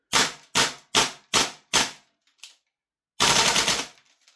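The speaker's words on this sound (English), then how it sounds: "let's put some shots through it, see if it can shoot full auto" A Secutor Centurion II gas blowback airsoft rifle fires five evenly spaced sharp single shots close up, then, after a pause, lets off a short full-auto burst that trails off.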